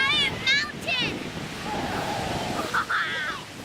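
Pacific Ocean surf at Huntington Beach in Southern California, a steady broadband wash of waves mixed with wind buffeting the microphone, with children's voices chattering over it at the start and near the end.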